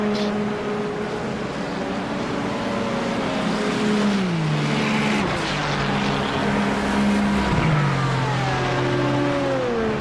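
GT race cars battle for position at the 12 Hours of Sebring, a continuous loud engine roar with pitch sliding down and back up as cars pass and shift, no talking over it.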